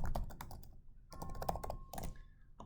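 Rapid bursts of typing on a computer keyboard, close and fairly quiet, in uneven clusters with short pauses, while working through a beam bending calculation with no talking.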